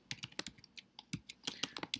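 Code being typed on a computer keyboard, a quiet, close run of irregular key clicks at a brisk pace with no voices.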